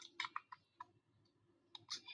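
Typing "Binance" into a new browser tab: a few quick, light key clicks in short bursts with pauses between, close and fairly quiet, with no talking.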